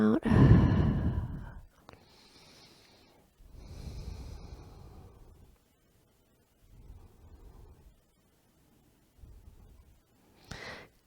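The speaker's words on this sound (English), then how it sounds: "and breathing out" A slow, audible exhale opens a yoga breathing exercise, a loud close breath out followed by quieter breaths in and out at a calm, unhurried pace with pauses between them.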